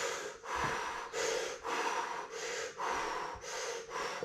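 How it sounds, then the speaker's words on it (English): Someone takes deep, rhythmic breaths before a breath hold, with about seven loud, close inhale-exhale cycles in a steady pattern and no talking. "So I'll get some breathing going first."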